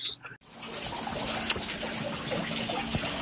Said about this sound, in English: it appears the damn ceiling is leaking